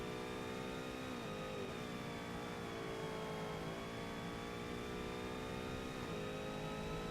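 A Cadillac race car engine at high throttle in Forza Motorsport holds a loud, steady howl, its pitch climbing and dipping briefly at gear changes and braking, with no voices.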